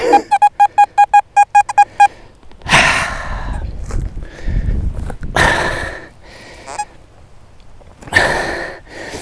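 XP Deus 2 metal detector giving a rapid string of about eight short pulsing target beeps, followed by breathy rustling and scraping close to the microphone.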